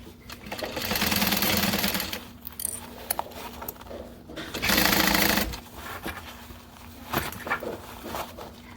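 A home sewing machine stitches a garment seam in short bursts, two loud rapid whirring runs separated by quieter clicks and handling noises, close to the microphone.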